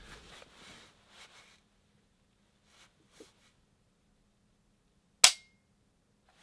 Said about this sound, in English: Nice audible clicks.